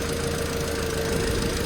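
A 2012 Audi A4 engine running as it warms up, a steady close idle hum with a faint rhythmic knocking texture, alone and unbroken.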